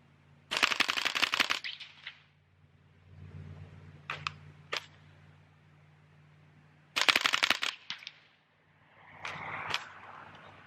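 .22 caliber tracer rounds fire from a rifle with a binary trigger in two rapid bursts of sharp, fast-paced cracks, separated by a few isolated single shots and quieter handling noise.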